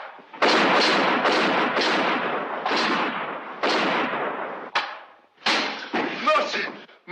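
Gunshots and loud bangs ring out in a 1949 film, a rapid run of sharp, close blasts and slams over several seconds with brief gaps between volleys.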